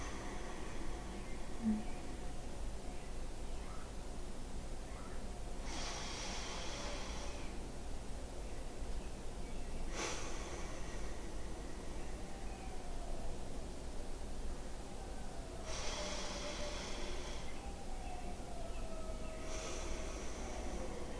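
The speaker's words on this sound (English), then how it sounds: "Inhale through the nose." Deep inhalation through the nose during a guided breathing exercise, heard as several soft, airy breaths in a steady rhythm over a low, constant background hiss.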